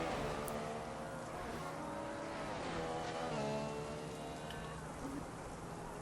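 Formula One race cars at full speed at the 2015 Japan Grand Prix, a Williams with a Mercedes engine beside a McLaren, give a loud, continuous, dense engine roar with shifting, rising whines and no break.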